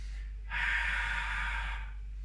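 A long, deep exhale through the nose during a Pilates hold, a steady airy breath swelling in for about a second and a half and then fading, close and alone in a quiet room.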